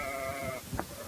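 Sheep and twin lambs on a Hutterite colony sheep farm with about 1,000 ewes bleat faintly, a sustained wavering cry followed by a short second bleat.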